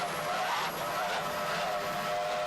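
A 28-foot Skater race boat powered by twin 2.5 EFI engines, roaring past in a 1995 powerboat race as a steady, droning, high-pitched engine whine heard from some distance.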